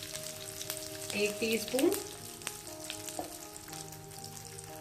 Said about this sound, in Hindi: ऑयल गर्म हो गया है, सबसे पहले हम इसमें हींग डालेंगे